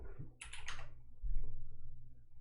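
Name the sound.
typing on a computer keyboard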